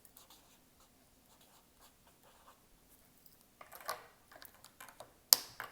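A math word problem being written out by hand, quiet scratchy pen strokes in short irregular bursts, faint at first and growing busier, ending with a sharp tap.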